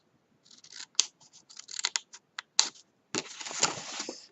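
Scissors snip through folded paper along a crease, giving a run of short crisp cuts that ends in a longer continuous slice, close and clear with no talk.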